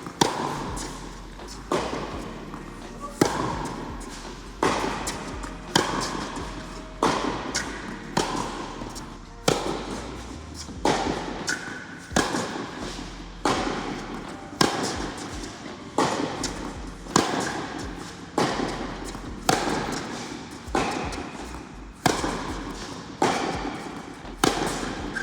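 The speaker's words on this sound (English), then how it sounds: "we got into some cross-court rallies and I was really starting to find a good rhythm" Cross-court tennis rally at Queen's Club, with regular sharp racket-on-ball hits alternating steadily for over twenty seconds, crisp and fairly close in an open outdoor setting.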